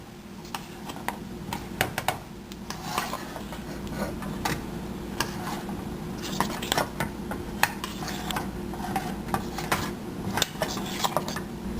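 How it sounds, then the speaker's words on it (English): Paneer cubes being gently stirred into marinade in a bowl, with irregular light clicks and taps of a spoon against the dish over a soft background and no talking. "Now adding this paneer and now mixing very gently"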